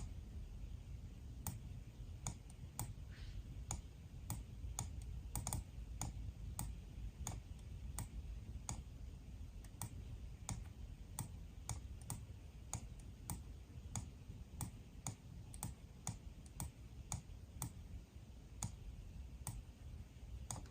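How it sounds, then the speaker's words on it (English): Computer mouse clicking steadily on a Raspberry Pi 5 setup, dozens of sharp close ticks in paired double-click bursts spread over the whole stretch, with a low hum underneath and no voices. "we're gonna select this one, double click"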